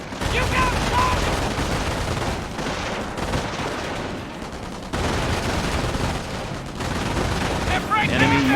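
Sustained Company of Heroes battle gunfire, dense rattling volleys and booms that run almost unbroken, loud and close, with brief lulls between bursts and shouted voices mixed into the combat.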